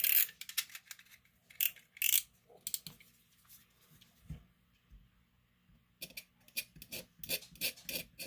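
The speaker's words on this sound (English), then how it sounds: "I'm just going to scrape away a little bit of that trace." Scraping a broken copper trace on an N64 Conker's Bad Fur Day cartridge circuit board, heard as short close raspy scratching strokes in bursts with pauses between, quieter in the middle and quickening toward the end.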